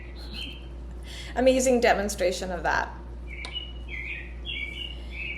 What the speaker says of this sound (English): here's our bird